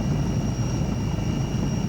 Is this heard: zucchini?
no